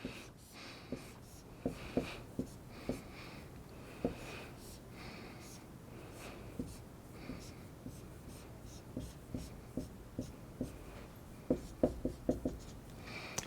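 Chalk or marker taps and strokes on a board while a chemistry product structure is drawn, a steady run of short scratchy clicks and scrapes at close range with no talk over them.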